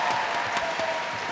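A netball World Cup crowd at a Zimbabwe vs Uganda play-off claps and cheers in a steady, dense wash of applause heard from within the arena.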